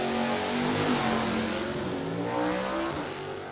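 NHRA drag racing cars, including a C-Stock car, launching side by side, a loud sustained engine roar with rising revs and tire noise, close and continuous with no talk.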